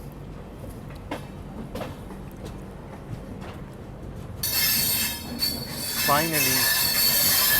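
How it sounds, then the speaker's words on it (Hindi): The Dibrugarh Rajdhani train passes close by, starting with a low rumble and then bursting into loud hissing rush and squealing wheels with a rising, warbling screech; a voice briefly speaks near the start. "तो ये थी डिब्रूगढ़ राजधानी जो वाया बनारस होकर के आती है।"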